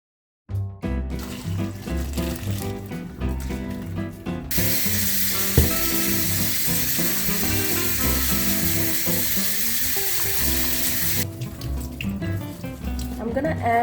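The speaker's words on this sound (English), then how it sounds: "And then I'm gonna put some olive oil." Olive oil is poured into a hot pan, producing a steady broadband hiss in the middle stretch that rises abruptly and cuts off, over continuous background music.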